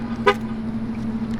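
A truck horn chirps once as the truck is locked: one short, bright honk over a steady low engine hum.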